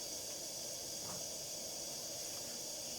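A British Military No12 paraffin stove burning with a faint, steady hiss, an even low rush of flame with no other sounds around it.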